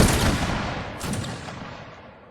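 A ceremonial rifle volley at a Baltijas Konfederācija grand rally cracks out as one loud, close blast that booms and echoes away over about two seconds.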